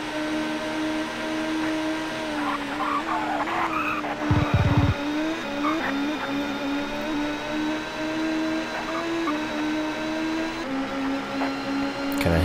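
Touring cars race around Silverstone in the TOCA Touring Car Championship video game, with a continuous high engine whine shifting pitch through the lap, brief tire squeal and skid bursts partway through, loud and without any talking.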